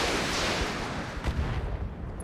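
Heavy mech weapons fire on a Nidhogg in the RogueTech BattleTech game, a dense rumbling barrage of booming impacts and gunfire with a sharper blast near the middle, loud and continuous.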